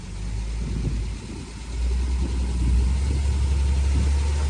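A car on the back of a car carrier idles with a low, rumbling engine and then rises into a louder, sustained rev as it is given gas to climb the ramp. The sound stays close and steady throughout.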